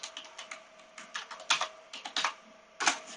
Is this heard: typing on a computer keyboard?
yes